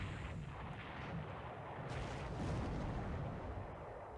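14-inch naval guns fire in a war strategy video game, a deep, sustained rumbling boom with a second heavy blast swelling midway, loud and continuous with no talk over it.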